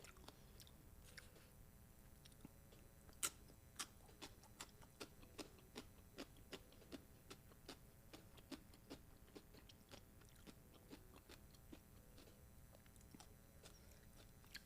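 Someone bites and chews an al pastor taco up close, with soft crunchy bites and chewing sounds in an irregular stream over low background noise.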